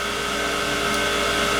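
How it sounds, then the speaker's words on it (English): A hot tank parts washer cleans an engine oil pan in a shop during a 5.3 engine build, giving off a steady, unbroken whirring hum with no talking. "Right now you can hear the hot tank back there going in the background."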